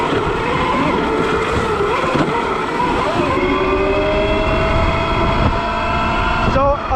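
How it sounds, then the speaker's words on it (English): Zero electric dirt bike fitted with a 5 kW Golden Motor ridden hard through woods, its chain drive clattering loudly under a rising and falling motor whine, continuous and close. "the chain drive just makes so much noise on this bike"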